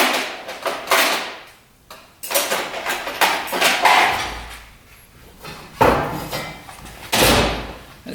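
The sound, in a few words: screwdriver picking rust off an old motorcycle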